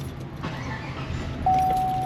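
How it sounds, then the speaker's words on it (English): A car rumbles close by in a busy parking lot, and a steady electronic tone cuts in partway through the short stretch. "as one car comes in, another car leaves"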